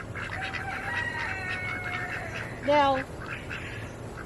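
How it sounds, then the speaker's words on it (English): Ducks and chickens around a water pool on a farm, soft clucks and chatter with one loud close duck quack near the end, under a person talking. "The ducks love it, and the chickens drink out of it too"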